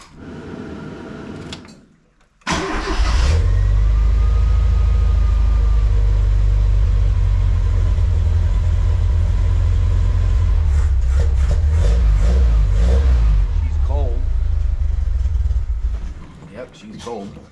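A 1993 Mazda B2200 pickup with a swapped carburetor cranks over and catches, then runs at a loud, rough cold idle with throttle blips. Clanks and shuffling come near the end before the engine cuts off.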